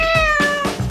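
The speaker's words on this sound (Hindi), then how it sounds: "इस बार तुम्हारा पुरस्कार एक प्यारी बिल्ली है।" A cat meows close and loud, a single drawn-out falling cry, with faint thumps behind it.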